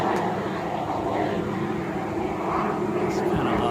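A small jet flying overhead above a residential driveway, a steady broad engine roar holding throughout, fairly loud and continuous.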